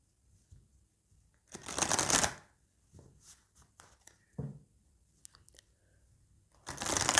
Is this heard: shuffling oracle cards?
yes